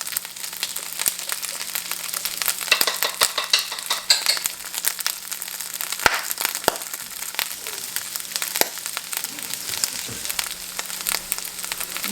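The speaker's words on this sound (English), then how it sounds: "It's popping like popcorn, which is funny since it is corn." Hominy corn frying in a pan, a continuous close crackle and sizzle with scattered sharper pops and stirring scrapes, steady throughout with no voices.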